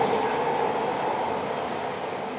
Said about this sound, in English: excuse me if the train goes by